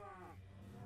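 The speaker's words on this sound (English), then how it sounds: "my little cow" A Minecraft cow gives a single low, drawn-out moo, quiet and close, set against the blocky farm game's soft background.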